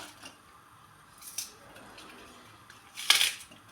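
Dried onion skins are cut with two crisp, close snips, a soft one early and a sharper, louder one near the end, against a quiet background with no talking.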